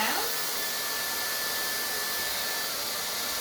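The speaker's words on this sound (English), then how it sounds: "after I pre-blow dry one direction" A hair dryer blowing steadily on hair during a pre-blow-dry, a continuous loud whooshing hiss with a faint whine, close and unbroken throughout.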